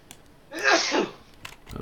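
A single sneeze during a tabletop wargame session, a sharp breathy burst of moderate loudness standing alone, with faint background noise around it.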